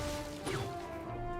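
A hope lantern gets smashed in Fortnite Save the World, a single sharp crash with a quick swish of breakage over steady game music and ambience.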